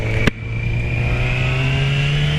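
A motorcycle ridden by a beginner pulls away from a junction in second gear, its engine droning loud and close with a steady rising whine after a brief click at the shift.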